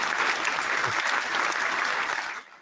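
A burst of crowd applause plays as a clapping sound effect, dense and steady, then trails off abruptly near the end, with no voices.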